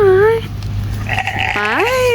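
Goats bleating at a petting zoo beside an RV park, two or three wavering, harmonic-rich bleats close by, one near the start and a longer pair toward the end, over a steady low background hum.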